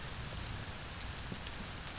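Steady rain falling outside a house on a rained-out day, a dense, even hiss with faint scattered drips, continuous and fairly close, with no voices.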